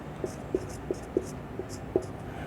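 Pen or marker tapping and scratching out a maths equation, about six short distinct strokes in an uneven rhythm, close and moderately quiet over a faint room hiss.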